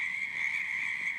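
A frog gives one steady, high-pitched trilling call that holds unbroken for about a second, clear and fairly loud against a quiet background.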